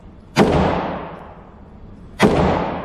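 Two loud, close pistol shots from a Glock 45 MOS fired at a target about 25 to 30 feet away, spaced nearly two seconds apart, each a sharp crack trailing into a long ringing decay.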